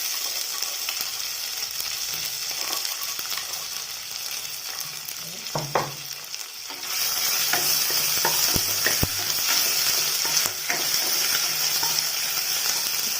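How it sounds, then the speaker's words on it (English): Roughly pounded garlic and ginger frying in hot oil, a steady close sizzle that grows louder and denser partway through, with occasional clinks and scrapes of stirring, no voices. "The oil is heated, so now let's add the roughly pounded garlic and ginger."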